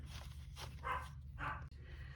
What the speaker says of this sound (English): And the dog is still barking.